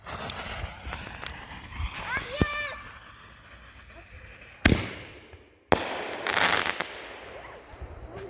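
Bright Star festival shells from a consumer fireworks show launch and burst outdoors: a whistling rise, then two sharp booms with crackling tails, over a steady background hiss while a few people speak faintly.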